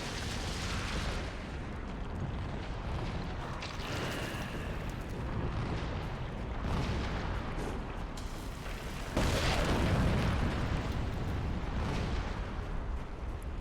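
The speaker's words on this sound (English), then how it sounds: "Shadow bombs can be used to destroy corruption." A shadow bomb blows up in Darksiders 2, a deep rumbling boom that swells through a dense, continuous wash of game noise and jumps louder partway through, with no talking over it.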